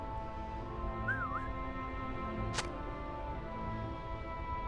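A short rising-and-falling whistled tune sounds once in the Lord of the Rings Online game, faint above a steady ambient game background, followed by a brief sharp click.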